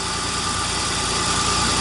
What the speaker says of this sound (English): all of a sudden, boom, engine just cuts off